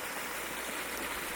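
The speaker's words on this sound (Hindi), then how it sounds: "एक नालू बह रहा है। देखिए कितना स्वच्छ पानी है दोस्तों" Clear mountain stream mixed with herbs flowing through a forest, a close, steady, unbroken rush of water.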